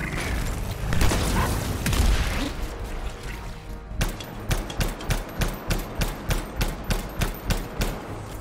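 Gunfire in a video game: a few heavy booms at first, then a rapid, evenly spaced burst of about a dozen loud shots in sequence, with no talk.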